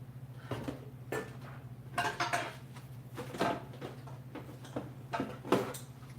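A pot used for larger batches of liquid is handled, making a series of light metallic clinks and taps at irregular intervals over a steady low background hum.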